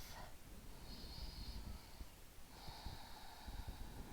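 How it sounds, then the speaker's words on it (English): Slow, deep breaths during a gentle vinyasa yoga class, two airy, hissing exhalation-like swells drawn close to the microphone over a soft, muffled background. "Take 2 cycles of deep breath here."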